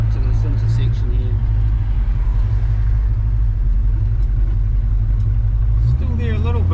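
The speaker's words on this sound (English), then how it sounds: "I think that chatter might be quietening down as it kind of, you know, gets a bit of driving on it." A 1946 Chevy pickup rolls along with its engine chattering, a steady low rumble under road noise throughout and a voice talking over it near the start and again near the end.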